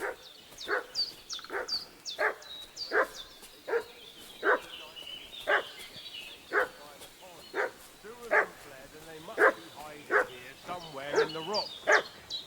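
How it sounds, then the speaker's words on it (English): A dog barks again and again in Kingdom Come Deliverance 2, sharp, evenly spaced barks with a few yips, fairly close and loud across the whole stretch. "What's that dog making such a fuss about?"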